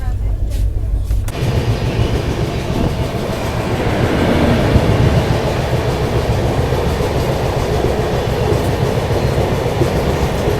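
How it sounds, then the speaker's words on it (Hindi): The LTT Mumbai Gorakhpur Kushinagar Express running on rails, heard from inside as a loud, steady rolling rumble with a rattling undertone and low voices in the carriage. "अभी हम लोग बीना होते हुए झांसी वाली लाइन पर आगे बढ़ रहे हैं"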